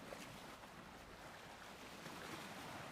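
Calm ocean waves wash in a steady, broad hiss of surf and wind, continuous and even throughout with no distinct breaks or voices.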